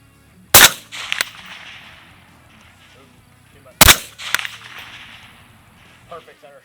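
Two sharp, loud rifle reports from an MK12 Mod 0 designated marksman rifle crack out about three seconds apart at an outdoor range, each followed by a short echo and ring. Quiet ambience fills the gaps between them.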